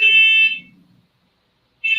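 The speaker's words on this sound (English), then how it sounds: "Hey, somebody got a car alarm in the background." A car alarm or alarm siren sounds in the background, a steady high electronic tone that cuts off and then returns, moderately loud against a low hum.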